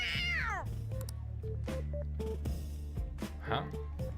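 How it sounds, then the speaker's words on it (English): A cat meows in the video game Persona 5 Royal, one clear rising-falling meow at the start followed by game dialogue blips and voices, with a softer cat-like cry later. "A cat?"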